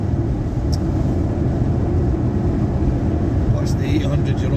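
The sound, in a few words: Ford Mustang 5.0 Coyote engine chugging uphill in 5th gear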